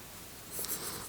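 Pencil drawing on paper, a faint soft scratching stroke that swells briefly midway through the short moment, quiet and alone without talk.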